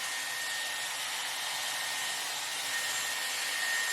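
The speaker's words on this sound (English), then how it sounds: "I'm blow drying up again to give me volume" A Dyson Airwrap styler blows steadily at the roots of hair being dried for volume, a close, constant airy whoosh with a faint high whine, growing slightly louder toward the end.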